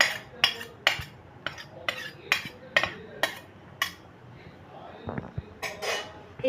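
A spoon scrapes and clinks repeatedly against a pot while cooked rice is layered into an egg biriyani, giving a steady series of sharp metallic taps, close and clear, with a softer stirring rustle near the end.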